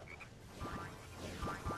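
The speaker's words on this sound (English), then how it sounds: "there's a frog over there" A frog croaks in the video game Sonic Heroes, with two pairs of quick descending croaks rising over a steady ambient background hum.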